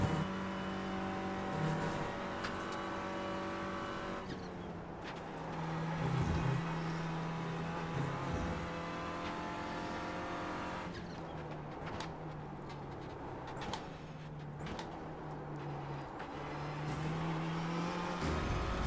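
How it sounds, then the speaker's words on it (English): Several Renault Clio production race cars close in from behind on the VIR circuit, engines droning steadily with rising and falling pitch as faster traffic approaches, a continuous near engine roar throughout with no talk. "Faster traffic approaching."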